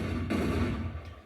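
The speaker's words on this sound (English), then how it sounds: "So the first barrel exploded, destabilized the second and tertiary barrels, and they eventually found the energy to explode themselves" Barrels explode in a chain reaction in the GameGuru MAX video game: a muffled boom with a rumbling tail, then a fainter second burst.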